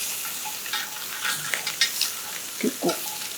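Napa cabbage browns in a hot skillet with plenty of olive oil, producing a continuous crackling sizzle, with a few soft scrapes and taps as two spoons move the pieces.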